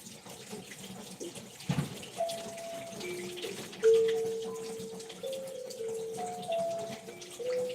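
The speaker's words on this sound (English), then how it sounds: "I'm going to wash my hands here" A running tap pours steadily into a sink while hands are washed, with gentle splashing, a sharp knock near the start and faint squeaky tones over the soft flow.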